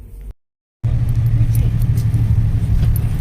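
A bus idles right nearby with a loud, steady low engine rumble, which begins after a short silence and keeps going.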